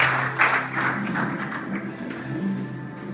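A church congregation applauds at a Christian Easter service, a dense, steady patter of many hands clapping that fills the room, with faint voices mixed in.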